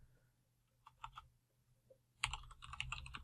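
Python code typed on a computer keyboard: a few scattered soft keystrokes, then a quick, close burst of rapid typing.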